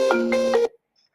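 A phone rings for an incoming call, giving a short bright electronic tone with a few pulses and then cutting off abruptly into silence.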